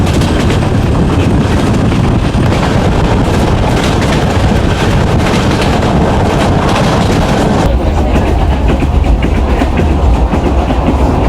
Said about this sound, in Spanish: el característico bramar de la locomotora GT22, titular de este tren, disfrutando buenas velocidades